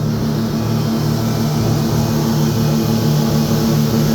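A speed boat's internal combustion engine drones loud and close off Nusa Penida, Bali, a steady low humming roar with a strong, even pitch that holds throughout.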